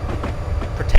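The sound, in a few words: train running in the video game Railworks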